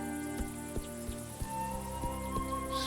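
Crickets chirp in a grassy evening scene in the game A Juggler's Tale, a continuous layered insect drone with soft periodic clicks and tones over a gentle backdrop.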